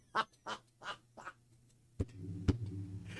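A duck sound effect: four clear, evenly spaced quacks, followed by a pause, then a sharp knock and a muffled low thump under a rising background murmur.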